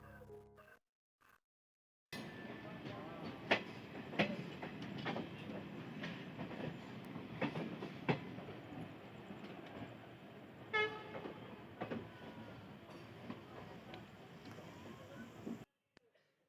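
Passenger train 22420 arriving at Moradabad Junction: a long rolling rumble of wagons passing, with clanks and short horn toots, and people talking nearby on the platform, preceded by a quiet gap.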